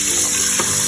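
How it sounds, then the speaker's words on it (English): Cold tap water runs steadily over radishes being washed in a sink, a continuous close splashing flow with a brief louder surge near the end, no voices. "Wash it with cold water"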